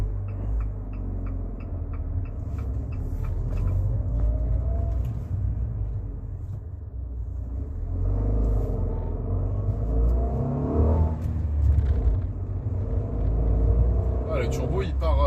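The 0.9-litre two-cylinder TwinAir turbo engine of a Fiat 500 S hums and rumbles low while driving, with rising revs and swells of acceleration, and someone talks over the engine noise throughout.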